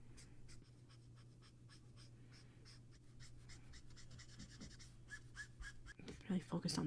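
A pen or pencil scratches steadily over paper while a Valentine's doodle is drawn, short repeated strokes in a close, quiet room, with a louder rustle near the end.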